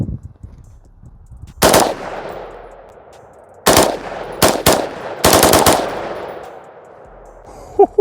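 Homemade gun firing rounds from a drum magazine outdoors: loud bursts of rapid shots in three or four separate volleys, each ringing off with echo, and quiet gaps between them.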